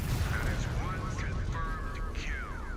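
Missile fire in MechWarrior 5 Clans: a dense, roaring wash of launches and blasts, loud and sustained throughout, with a voice speaking over it.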